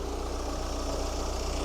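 Land Rover engine idling steadily, a continuous low rumbling drone heard close by with no talk.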